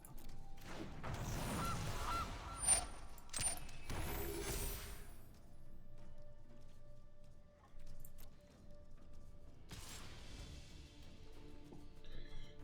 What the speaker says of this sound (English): Just a goose, that's fine.